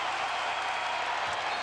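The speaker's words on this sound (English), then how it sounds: "listen to the crowd trying to work that Hilton Magic" Basketball crowd at Iowa State's Hilton Coliseum roaring in a sustained, dense wash of cheering and applause during a tight college game.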